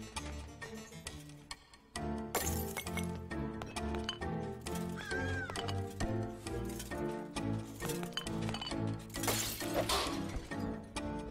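Glass breaks in the game The Swindle, a sudden shattering crash cutting into a busy musical soundtrack full of clicks and ticks, with repeated bright breaking bursts over about eleven seconds and no speech.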